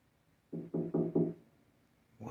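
Four quick knocks land on a door in a fast even sequence, dull and fairly close, followed by a short silence and the start of another sound.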